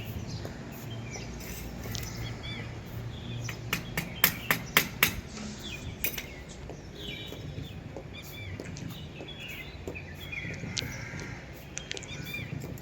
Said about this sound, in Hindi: ये छेद करने में मुझे बहुत टाइम लगा, क्योंकि ये गमला बहुत ही ज़्यादा सख्त था।